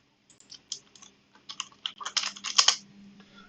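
Someone types an ipconfig command on a computer keyboard, close crisp key taps in short irregular bursts that build to a quick, denser run before stopping, over a faint low hum with no talking.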